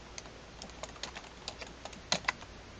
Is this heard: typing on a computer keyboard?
yes